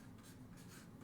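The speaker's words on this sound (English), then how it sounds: "So you're going to write the word ideas just like that." Pen writing a single word on paper, a brief close scratching of the nib in short strokes, very faint over quiet room noise.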